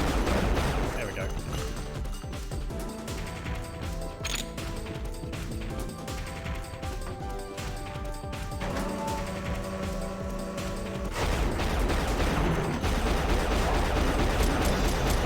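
Missiles fired at close range in the game Unreal, a clatter of sharp launches and impacts over mechanical game noise, with a voice speaking in places.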